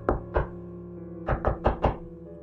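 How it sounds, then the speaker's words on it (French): Knocking several times on a door: two sharp raps, a pause, then four more in quick succession, close and hollow, with no voices. "J'ai toqué plusieurs fois à la porte."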